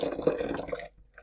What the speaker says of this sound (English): This is like 2 glasses of water, of hot water that I'm adding to this